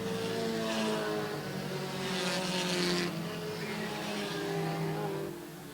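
Several race cars running single file out of turn 4 on an oval, their engines roaring loud and steady with shifting pitch as the field passes, a continuous dense engine drone throughout.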